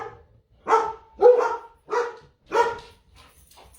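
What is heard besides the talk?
dog barking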